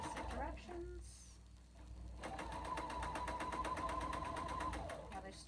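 Sewing machine stitching fabric with a 1/4 inch foot, a fast even run of mechanical needle beats lasting a few seconds after some brief handling noises, close and clear.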